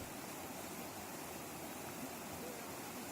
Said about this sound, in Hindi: उफनती लहरें